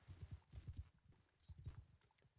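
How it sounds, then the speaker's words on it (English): Horse archers' horses galloping in Bannerlord, a quick rhythmic clip-clop of hooves in repeated bursts, faint and somewhat distant, with no talk over it. "Our horse archers are running into position."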